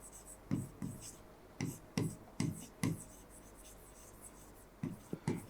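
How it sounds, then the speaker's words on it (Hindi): Pen or chalk writing by hand during a history lesson, heard as short scratchy strokes in irregular bursts, some clustered in pairs, with quiet gaps between them and no talking over them. "मैं लिख रहा हूं"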